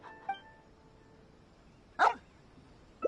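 A dog in the video game Genshin Impact barks on a beach: one faint yip early, then a single louder bark near the middle and a short final yelp, over a quiet ambient background.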